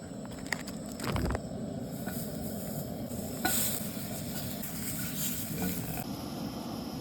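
Beer bratwurst sizzling steadily over a camp stove at a car campsite, a continuous close frying hiss with a few louder crackles and pops, no talk.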